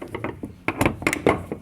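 A ratchet fitted with a 36 mm socket works on fuel filters during an oil change on a Detroit DD13/DD15/DD16 Mercedes-Benz truck engine, giving a few loud, close metallic clicks and clunks.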